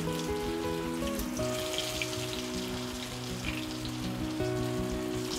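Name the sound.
cauliflower frying in hot oil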